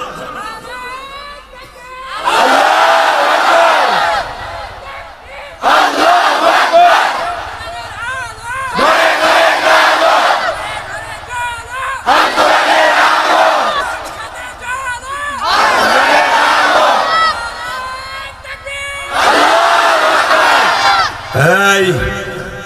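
A large crowd at an Islamic waz sermon in Tangail chants takbir in about six loud, roaring bursts, each several seconds long, with a preacher's amplified voice speaking in the gaps between them.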